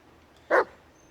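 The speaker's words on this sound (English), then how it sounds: "we may as well give our trusty dog a pat" A single short dog bark from the companion dog in the Blair Witch horror video game, one loud, clear burst standing alone against a quiet background.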